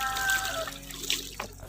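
Water poured over a rusty multi-burner gas stove to rinse off dish soap, a close, steady splashing trickle that tapers off toward the end.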